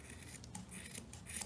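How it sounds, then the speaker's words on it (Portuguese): Scissors snip yarn on both sides of a crocheted amigurumi snowman, a few quick, soft close cuts with light rubbing of the fibres, quiet and alone. "Vou cortar aqui dos dois lados."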